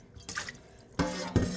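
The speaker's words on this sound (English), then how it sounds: "Rinsed it with some water." Water splashing and running over a rusted cast iron pan being rinsed after a salt scrub, two short close bursts of pouring and splashing separated by a quieter gap.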